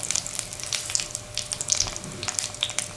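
Chopped bulb frying in a pan for kale and potato soup, a busy crackling sizzle with many sharp pops scattered over a constant hiss, close and fairly loud, no talking.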